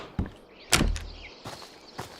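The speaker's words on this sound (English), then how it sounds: "I can hear his footsteps." Enemy footsteps in the shooter game Road to Vostok, a few scattered heavy thuds and scuffs spaced irregularly at moderate distance, with no talking over them.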